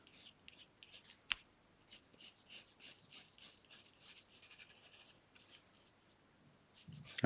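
A pen draws flower petals for a Day of the Dead skull collage, giving soft, close scratchy strokes in short repeated bursts with a faint click, quiet and steady with no voices.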